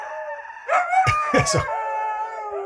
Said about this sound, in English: Those are beautiful dogs, though. Some sort of husky?